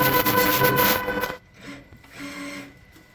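A PFAFF 8311 welding machine running a seam through material, a steady loud mechanical whir that cuts off abruptly, followed by quieter intermittent machine rumble.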